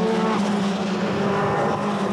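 A BMW M3 touring car in the 1989 British Touring Car Championship spinning round on track, its engine a loud continuous roar that holds steady without pause.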